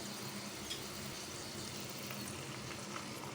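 Eggs for an egg potato pizza fry in a pan with a soft, steady sizzle and light crackle, faint and continuous with no voices.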